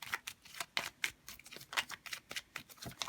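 Tarot cards are handled up close in a quiet room, with soft papery rustles and a quick series of light flicks and snaps, like a shuffle. No one speaks.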